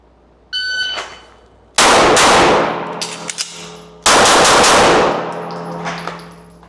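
During a FAST pistol drill, a short electronic timer beep is followed by two loud gunshots about two seconds apart, each leaving a ringing metallic clang from a steel target as it decays.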